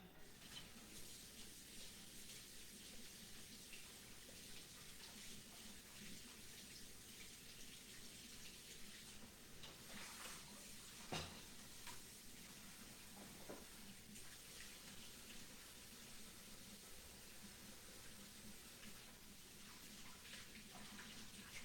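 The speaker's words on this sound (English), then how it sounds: "let me wash my hands really quick" Tap water runs steadily for hand washing in a home workshop after painting a mannequin head, a continuous hiss of moderate level with small splashy changes and no voices.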